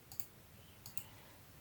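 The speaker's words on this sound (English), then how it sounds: "I'm just clicking on the Etsy now" Computer mouse clicking while browsing the Etsy website: two quick pairs of crisp, close clicks, about half a second apart, over a quiet room hum.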